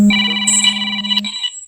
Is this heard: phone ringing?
yes